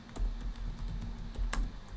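Rapid keystrokes on a computer keyboard, a steady patter of close, crisp clicks with a few louder taps, no voices.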